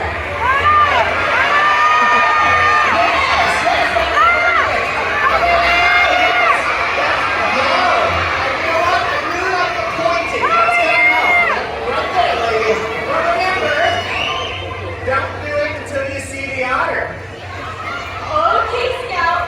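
A live crowd at a sea lion and otter show at SeaWorld San Antonio, Texas, shouts and cheers loudly and continuously, children's voices prominent in the steady hubbub.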